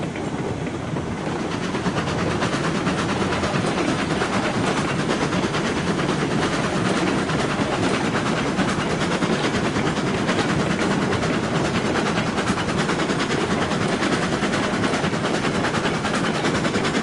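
A train rolls along the track in Railroads Online with a dense, steady rumble and rapid clatter that holds loud and unbroken throughout, with no voices.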